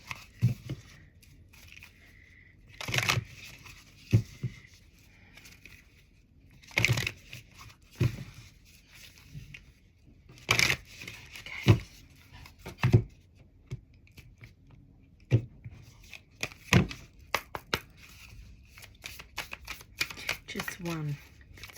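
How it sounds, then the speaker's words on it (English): A deck of stiff, hard-to-shuffle cards being shuffled by hand, with sharp riffling bursts and slaps arriving irregularly over about twenty seconds, loud and close, while a person talks between them. "these cards are a little bit harder to shuffle"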